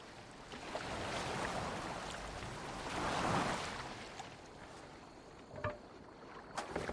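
Water sloshes and rushes steadily around a boat being steered in a video game, a continuous close wash that swells midway, with a few faint knocks near the end and no talking.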